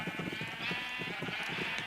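Sheep in Minecraft bleat in a quick series of short, pulsing cries, close and fairly loud over a steady background tone.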